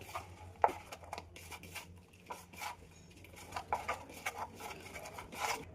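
Bare hands mash mint, coriander, salt, dried chili powder and tamarind together in a bowl, giving faint, irregular soft squishes, rubs and small clicks at close range.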